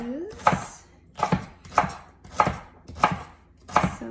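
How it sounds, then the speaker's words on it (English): Celery is sliced on a cutting board, six crisp, evenly spaced knife chops landing in a steady rhythm, close and clear, with no talking. "I'm going to chop up the celery into kind of nice"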